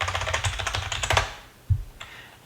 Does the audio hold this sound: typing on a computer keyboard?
yes